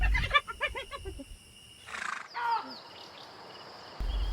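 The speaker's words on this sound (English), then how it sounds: "It was not the sound of a powerful predator like a lion, but a dry, harsh laugh. Hyenas." A hyena's dry, harsh laughing cry: a quick run of rhythmic, nasal yelping pulses heard from a distance, fading out and followed by quieter, thinner calls.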